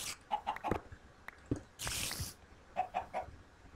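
Minecraft chickens cluck in short, bright repeated bursts, grouped in threes near the start and again near the end, with a brief hissing noise in between.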